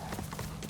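Horse hooves clopping in Ghost of Tsushima, a quick run of soft, steady hoofbeats over a continuous low game backdrop.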